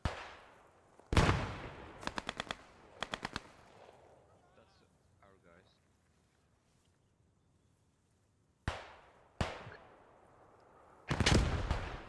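A large grenade bursts in the World War II shooter Post Scriptum, set in Stone 1944: loud booming blasts break out amid several rapid bursts of automatic gunfire, with a quiet lull before two more sharp detonations and a final heavy explosion.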